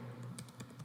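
Keys clatter on a computer keyboard as a line of Python code is typed, a quick run of close, soft taps under a low hum.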